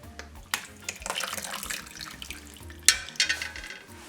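Liquid is poured and sloshed into a pot of Haitian pumpkin soup, joumou, with beef and squash, giving a close, splashing, gurgling wash with a few clinks of utensils against the pot.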